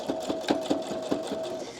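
A sewing machine runs steadily while stitching a fabric scrunchie, its needle thumping about five times in under two seconds over a continuous motor whine, close and clear with no talking.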